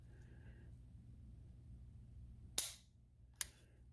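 Two sharp mechanical clicks from the trigger reset of a CZ P-01 pistol, the first louder, the second following less than a second later, close up with no talking over them.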